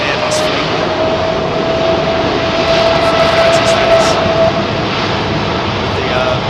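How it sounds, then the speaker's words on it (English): An Airbus A330 jet airliner with Rolls-Royce Trent 700 engines roars loudly and steadily at London Heathrow Airport, a broad sustained engine rumble with a faint whining tone throughout. "Still a very successful engine, this Trent 700."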